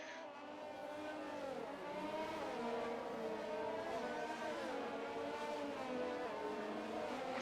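Race cars in a Canadian Grand Prix racing video game run behind a safety car, their engines a steady layered whine with rising and falling pitch sweeps, continuous and moderately loud with no talk.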